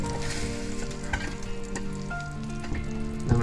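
Unsalted butter sizzling and crackling steadily in a hot pan, a continuous frying hiss with small pops, close and fairly loud, no talking.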